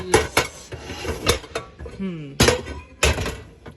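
Pots, pans and utensils clatter and knock in a home kitchen while a roux is being made, with sharp metallic bangs and rattles in a loose irregular rhythm, close up and fairly loud.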